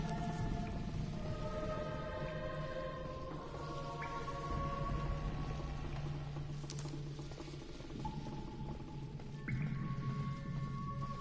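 Creaking ambience in the video game N.E.R.O., with steady low droning tones and long sustained creaks and groans that shift in pitch over a dense, continuous background, no talking.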